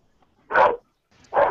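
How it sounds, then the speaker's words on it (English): A dog barking excitedly at home, two sharp, close barks spaced under a second apart against a quiet background. "my dog's going crazy"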